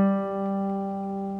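One guitar D string plucked and left to ring, a clear sustained pitched note fading gently, close and alone with no voices.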